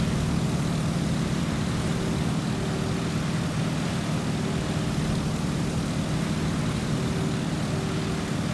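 Stearman biplane in Microsoft Flight, its radial engine and propeller at full RPM on a landing approach: a loud, steady droning roar with a faint tonal hum, unbroken and close throughout.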